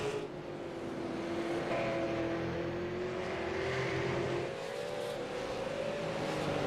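Race cars roar around a short oval at Southern National Motorsports during a VASTT Racing League heat race, engines droning steadily with rising revs as cars pass, close and loud throughout with no talk.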